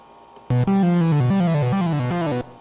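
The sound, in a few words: original unedited synth sound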